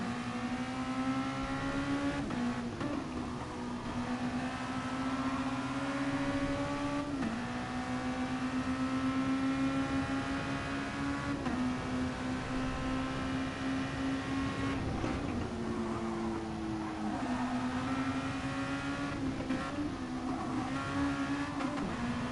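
Car engine pulling steadily in third gear through a corner on a driving session, a continuous loud drone whose pitch rises and dips with small gear-load changes, heard alone without talk.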